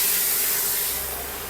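A spray gun hisses steadily as it lays PU paint along the sides of a door, a loud continuous spray close by that tapers slightly toward the end.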